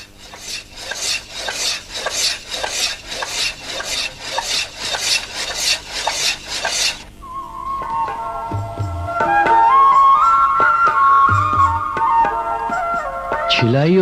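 A bronze plate is scraped to polish its surface: about seven seconds of rhythmic rasping strokes, then a sustained whining tone from turning machinery with scattered knocks and scrapes.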